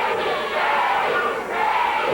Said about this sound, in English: Freddie, the crowd chanting